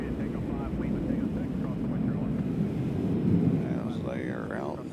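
An airplane at Nashville International Airport, a loud, continuous low engine roar swelling slightly as it passes, with a voice talking faintly beneath it.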